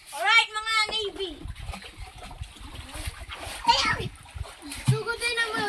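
Children splashing and swimming in water outdoors in the countryside, with bursts of splatter and shouting kids' voices throughout, some high-pitched calls over the watery sloshing.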